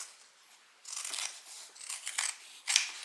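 Scissors cut through fabric for a sewn hobo shoulder bag in a few crisp, close snipping bursts separated by short pauses.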